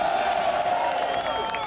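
A loud, dense crowd at a golf event cheers and whoops continuously, a sustained roar of many voices with scattered shouts rising above it.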